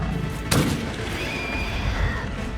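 A rifle fires a single sharp, booming shot in the Satisfactory video game, set against a steady wash of game ambience that continues afterward.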